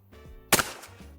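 A single loud shotgun blast rings out at targets during a cartridge pattern test, a sharp close crack with a short decaying tail over faint background rumble.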